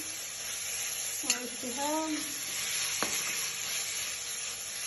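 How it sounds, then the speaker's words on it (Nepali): Goat meat sizzling in a karahi wok, a steady close frying hiss running throughout, with a brief stirring clatter and a short voice speaking over it. "त्यसलाई चाहिँ हामी जहिले मासु कराईमा पकाउँछौँ"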